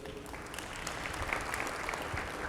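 Audience applause at a State of the City 2023 address, steady clapping from a crowd filling the whole stretch at moderate level with no voice over it.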